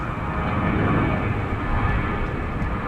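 Steady broadband aircraft engine roar from an airliner pushing back at DFW Airport at night, a continuous mid-distance drone with no voices over it.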